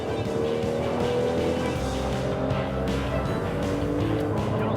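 A rally car driven hard by an experienced driver, engine loud and steady throughout with tyre squeal and skidding mixed in, heard close from inside or near the car with no talk.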